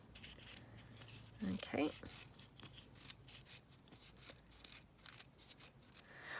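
Scissors snipping fabric strips in a series of soft, close rasping cuts, with a brief spoken word partway through.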